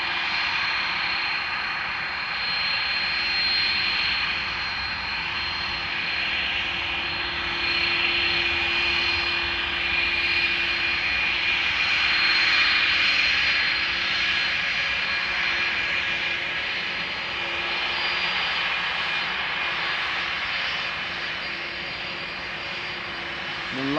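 A jet airliner departs Amsterdam Schiphol Airport, its engine roar loud, close and sustained for the whole stretch, swelling slightly midway and then easing, with no voices.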